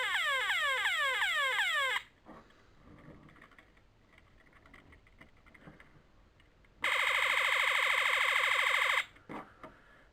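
Electronic sound effects from a G1 Shockwave Transformer toy: a rapid rising, warbling laser-like whoop sequence, then a quiet gap, then a loud sustained buzzing blast for about two seconds, ending with a short burst, close and harsh.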